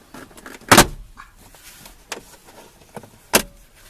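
Plastic cover strip pried off a car door: sharp cracking pops of released clips at irregular intervals, three of them prominent, with quieter scraping and creaking of trim in between.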